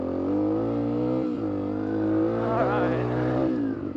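An off-road dirt bike engine holds a steady, droning pitch close to the listener, then revs and rises and falls slightly as it rides, with a brief spoken word over the motor.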